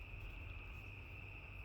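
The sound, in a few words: cicadas chirping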